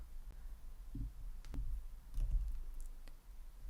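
A few faint mouse clicks as the Continue button is pressed on a website during Google Search Console setup: sparse, light taps over a low steady hum, no voice.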